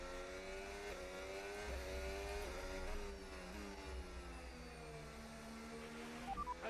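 Formula 1 race car engine from the F1 25 video game at the Dutch Grand Prix, a high-pitched whining engine note that rises and falls in pitch through repeated gear changes and revving, with no talking.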